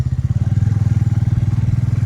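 A Bajaj Avenger 220 motorcycle cruises along a local road, its engine giving a steady, rapid low thumping pulse, close and loud throughout with no talking.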